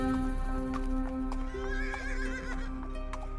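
Horse hooves clip-clop in a steady rhythm while a horse whinnies loudly close by, a staged sound effect over a constant low hum, with no voices.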